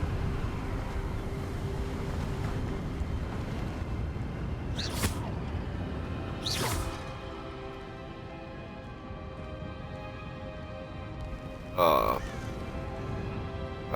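Crows cawing in the Hogwarts Legacy video game, a few sharp bursts at about five, seven and twelve seconds over a dense, steady ambient bed, with a voice speaking across it.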